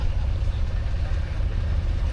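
A vintage Austin 12/4 car engine idles at a steam rally, giving a steady, close, low rumbling throb with no voices over it.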